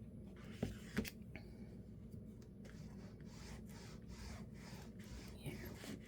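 A rubber stamp is rubbed back and forth across a Christmas journal page: a soft, continuous scratchy rubbing, close and quiet, with a couple of light taps near the start and no talking.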